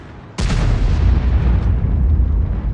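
A tank gun fires at a Centurion tank in a video game, one sudden loud boom that rolls on into a long, heavy rumbling decay, with no voices.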